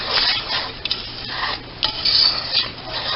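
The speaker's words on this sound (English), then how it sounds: "You're going to want to stir it." A spoon stirs thick peanut butter fudge mixture in a pot, giving steady scraping and rubbing strokes with a few sharper clinks against the metal, close and alone.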